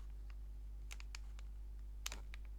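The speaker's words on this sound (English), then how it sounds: "next step is to click and hold these two buttons and wait until indicator" Several small plastic clicks from pressing buttons on JBL Tune 510BT headphones, a few scattered presses followed by a quick cluster near the end, close and quiet over a low hum.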